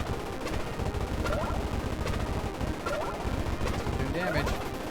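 Rapid weapon fire in the pre-alpha shooter DBK Shoot'em Up, a dense continuous stream of gunshots with game sound effects, while someone talks excitedly over it.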